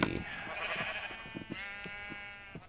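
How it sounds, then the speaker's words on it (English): A sheep in a pen in the Minecraft video game bleats in one long, wavering, nasal cry that lasts most of the moment, heard close over faint clicks and background game sounds. "Just nothing but naked sheep in the pen."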